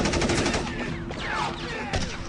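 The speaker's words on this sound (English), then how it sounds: "then you hear the machine gun fire" Bursts of rapid automatic machine gun fire shooting at Tibetans in the snow, several dense rattling volleys echoing outdoors, followed by a sharp single crack near the end.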